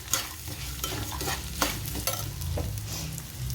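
Rice is stirred and roasted in hot oil in a pan, with a steady light sizzle and repeated scraping strokes of a spoon at close range.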